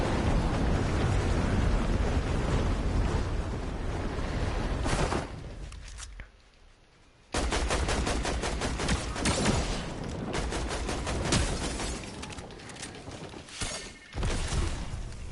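Fortnite gunfire crackles in loud rapid volleys and fusillades with explosive crashes, cutting out briefly to near silence around the middle before the shooting resumes.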